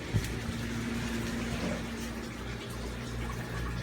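Tap water running steadily to fill an aquarium sump in a fish room, a constant close splashing rush with a faint hum underneath, no talking.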